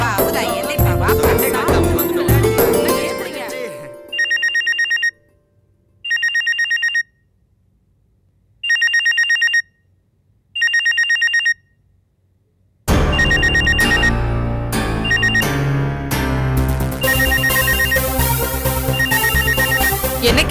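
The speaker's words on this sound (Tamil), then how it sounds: "என்ன கேஷவ், போன் அடிச்சுக்கிட்டே இருக்க, எடுக்க மாட்டேங்கிற?" A telephone rings inside a family home in a Tamil TV serial, sounding four bright electronic bursts with even pauses between them, framed by loud stretches of music before and after.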